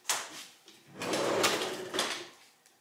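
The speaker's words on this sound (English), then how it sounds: "And the drawers, let me open one up here." A wooden drawer salvaged from old bank teller drawers, now built into a home hardware cabinet and full of wood screws, slides open with a soft rumbling scrape, followed by a brief knock and rattle, close and alone.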